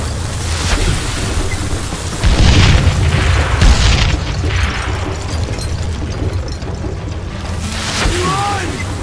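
Dynamite explodes in the Western shooter game Call of Juarez: Gunslinger: heavy booms land one after another, deep rumbling blasts with crackling debris, loud and close, amid game action and shouting voices.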